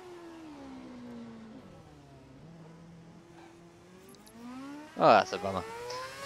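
An F1 car engine in F1 2011 at the Singapore circuit whines with steady, smoothly rising and falling revs, then surges in a sharp, loud rev burst near the end while someone talks over it.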